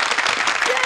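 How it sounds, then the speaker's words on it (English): A brief burst of audience applause and clapping at a talk-show style event, steady and fairly close throughout the short moment. "Big applause."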